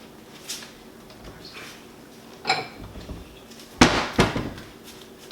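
A kitchen bowl being lifted out and set down on a counter, giving a couple of sharp clinks and knocks, the loudest pair near the end, amid quiet handling noise with no talk.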